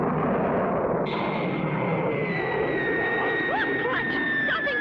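Cartoon rocket blasting off, a sustained loud rushing roar joined partway through by a rising high whistle and chirping tones, with a voice briefly over it.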